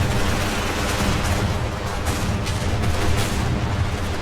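Airship guns firing at an old castle fortress in the video game Airships: Conquer the Skies, a dense and continuous barrage of loud booms and gunfire with no pause, and no talking.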